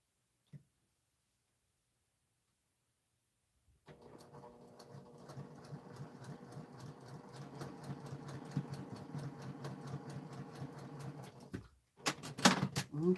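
Sewing machine chain piecing quilt block pieces for a hyacinth pressed-flower block, stitching in a steady rapid whir after a few seconds of silence, running continuously, then briefly stopping and restarting with a sharp clatter near the end.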